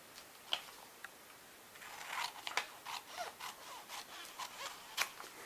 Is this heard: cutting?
yes